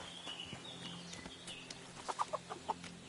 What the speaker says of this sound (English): Ah, chicken.